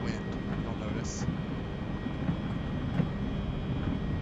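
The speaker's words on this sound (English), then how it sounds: "Takeoff power is set." Twin jet engines of an E-175 airliner at takeoff power in X-Plane 11 roar in a steady, dense, continuous rumble with a faint high whine, loud and unchanging throughout.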